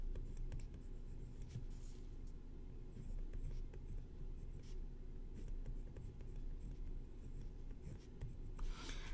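Chalk or marker writing on a board during a calculus lecture: faint, scratchy strokes in short bursts over a low room hum, with no talking.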